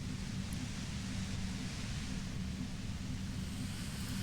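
Steady broadband radio static hisses throughout in Disco Elysium, an even, continuous wash of white noise with a heavier low rumble underneath and no voices.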